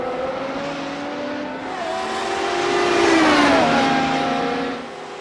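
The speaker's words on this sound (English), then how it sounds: "Car number 6 rockets past the start-finish line, leading lap 3 with a commanding edge." A race car in a racing video game sweeps past the start-finish line at Phillip Island, its engine a steady high whine that swells louder and drops in pitch as it passes, then fades away.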